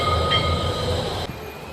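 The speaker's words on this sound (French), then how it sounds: "Le voilà, derrière il passe le tramway de Nantes." A Nantes tram passing in the street, a brief loud rolling rumble with a high wheel squeal that cuts off abruptly, no voices.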